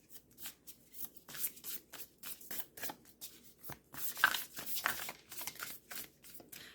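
Oracle cards being shuffled by hand for a pick-a-card reading, close and steady, with a continuous run of soft riffling flicks and papery slaps and no talking.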